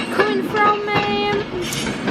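A train pulls into Crewe station with a rolling rumble of wheels on rails and steady, tonal whining and squealing, fairly loud and close, with other station sounds around it.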